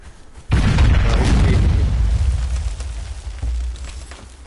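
Jars set alight explode in a video game with a sudden heavy boom, followed by a long rolling roar of fire and debris that slowly fades, with a second smaller thud near the end.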